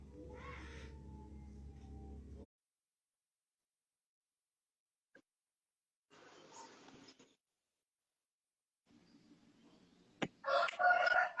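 A rooster crows in a couple of separate bursts, first loud and near, then again later, with quiet gaps and other brief noises between the calls.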